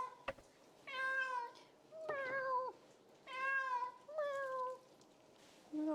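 A pet cat named Brian meows several times in a row, each call clear and close, with brief quiet gaps between them and no talking.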